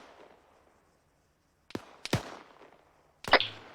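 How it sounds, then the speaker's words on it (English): Gunfire during squad training, rifles shooting at bodies on a hill: two close sharp reports in quick succession, then a third loud crack a second later, each with a short decaying tail over a quiet background. "they're just shooting dead bodies on the hill"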